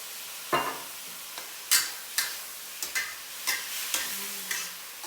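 Bean curd sizzles in a hot pan as cooking wine is added, a steady frying hiss broken by a series of sharp clacks and scrapes from stirring, with no voices.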